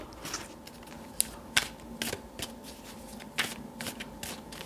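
A deck of tarot cards shuffled by hand, a close, continuous riffling patter with sharper snaps now and then, heard alone without talking.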